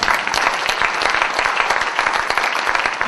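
Applause from a church audience acclaiming God during a sermon, with dense, steady clapping at moderate level across the whole stretch.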